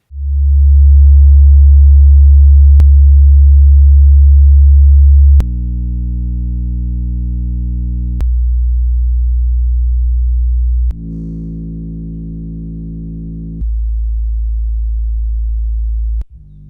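Test tones play through JBL Xtreme 2 speakers as loud, pure low-pitched steps, each held for a few seconds before jumping to another pitch, with a few brief clicks at the changes.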